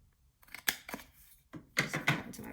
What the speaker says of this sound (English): Just cut into my box a little bit.